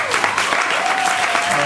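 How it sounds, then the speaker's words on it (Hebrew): An audience claps at a gathering with live guitar accompaniment, dense continuous applause from many hands filling the room, loud and steady throughout with a faint sustained tone beneath. "מגיע לו הרבה מחיאות כפיים"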